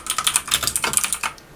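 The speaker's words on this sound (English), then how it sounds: "let's start typing away" Quick, steady run of keystrokes on a computer keyboard, close and clear with no talking over them, typed while entering a new contact into a tax practice CRM.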